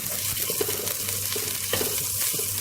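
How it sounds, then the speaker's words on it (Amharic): Chopped onions cooking in oil in a pan while being stirred give off a steady soft sizzle, with faint clinks and scrapes of stirring and no talking. "ሽንኩርቱ እየበሰለልን ነው፣ ቡኒ እየሆነልን ነው።"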